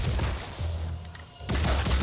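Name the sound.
gunshots in the video game Phoenix Point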